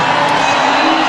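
Crowd noise from a stadium audience at a women's triple jump final, the 2010 Commonwealth Games, a steady dense roar of cheering and calls holding at even loudness throughout.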